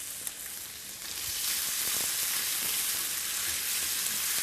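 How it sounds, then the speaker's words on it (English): Onions and bacon frying in a hot pan, a dense, steady hiss of sizzling fat that swells louder after the first second and then holds, heard up close with no voices. "Take your onions and your bacon. And just fry those two items off first before you add the red peppers on there."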